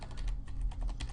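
Steady clicking of keys being typed on a computer keyboard, quick and fairly faint, close by with a low hum underneath.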